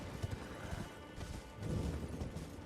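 Horse hooves clip-clop steadily while riding in Elden Ring, a busy rhythmic trot with occasional snorts, sitting in a dense game mix without speech.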